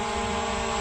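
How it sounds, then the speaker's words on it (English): Ruko F11 GIM2 GPS drone hovering just after auto takeoff, a loud continuous propeller whine and buzz, steady and close, with no talking. "And the Ruko GIM2 is in the air. Let's let it hover for a minute."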